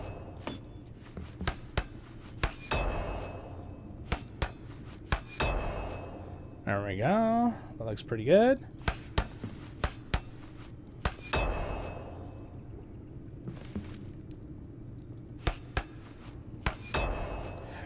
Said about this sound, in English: it's so nice to have this good hammer that just repairs things in 2 hits